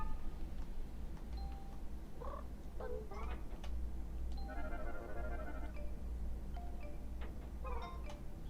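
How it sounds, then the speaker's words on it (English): An in-game doorbell rings in Chibi-Robo, giving short chime-like tones and a buzzy ring over a constant low hum, mixed with small scattered game sounds. "what if I go inside and I ring the bell?"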